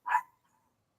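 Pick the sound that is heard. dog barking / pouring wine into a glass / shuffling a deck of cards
dog barking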